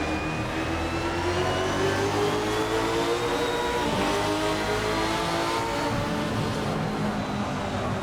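In a sim racing game, race cars roar past on track, several high-revving engines overlapping and sweeping in pitch as they pass, steady and dense with no talking.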